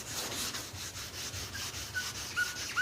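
Rhythmic rubbing strokes of wet sanding on primer over the body of a 1966 Ford F1 pickup, repeating steadily at close range with a faint squeak near the end.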